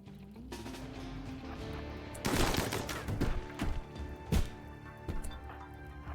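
Gunfire in RimWorld breaks out as a cluster of sharp shots and crackling bursts over a steady background hum, loud and close.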